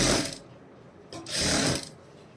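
A sewing machine stitches a blouse neck in two brief, close bursts of whirring, ratcheting mechanical noise separated by a short pause.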